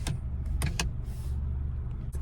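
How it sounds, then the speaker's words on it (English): A car's power window opening, a whirring motor hum under a few sharp clicks and knocks inside the cabin, close and brief. "Oh wait, let me open the window."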